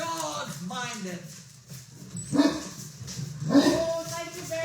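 Farm dogs bark in short bursts, a few yips and woofs rising over the voices of people talking nearby at a farm's evening feeding time.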